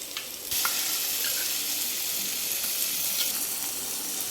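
A curd mixture hits a pan of frying green chilies, giving a steady, loud hiss and sizzle that runs on without pause, with no voices over it.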